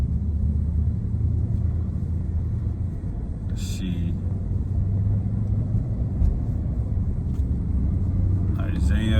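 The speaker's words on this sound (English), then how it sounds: "I'm stuck in traffic here" Steady low road rumble of car traffic from inside a vehicle stuck in a jam, continuous throughout, with someone talking over it.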